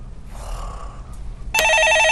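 A telephone rings abruptly near the end, a loud electronic bell-like ring with steady harmonic tones, following a stretch of faint murmuring and room noise.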